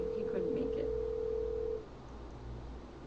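Steady telephone tone on a call being placed to a radio/TV guest, loud and even for nearly two seconds before cutting off, leaving faint background hiss.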